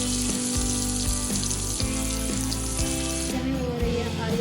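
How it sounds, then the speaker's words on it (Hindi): Potatoes fry in hot mustard oil in a kadai, giving a continuous close sizzle with occasional clinks and stirring knocks. "अब आलू को फ्राई करेंगे।"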